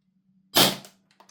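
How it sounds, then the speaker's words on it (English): A Lambda Defence B&T GHM9 Gen2 gas blowback airsoft rifle fires one sharp, loud, close shot with a quick cracking attack that decays over a fraction of a second, over a faint steady hum. "I'm going to fire 10 shots."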